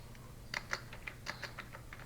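A digital wallet PIN being tapped out on a computer keyboard: a short burst of about a dozen faint, close key clicks at an uneven pace, with no talking.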